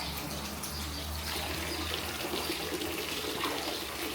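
Water runs steadily from a public drinking fountain along a Portuguese coastal walking route, a continuous close splashing stream with a faint low hum of outdoor background.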